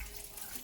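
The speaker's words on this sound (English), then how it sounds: "We're gonna add a bit more water here too." Water running from a tap or pouring into a pot of beef pepper soup, a steady close hiss of flowing liquid with no voices.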